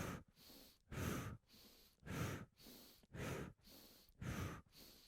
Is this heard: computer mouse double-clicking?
no